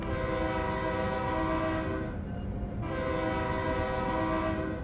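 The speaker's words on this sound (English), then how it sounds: "when we hear every other train pass us from the inside of view, you can really hear it well" Train Sim World 3 New Jersey Transit train passing, heard from inside the cab as a loud, steady rumble with tonal horn-like hum, briefly thinning in the middle before the full sound returns.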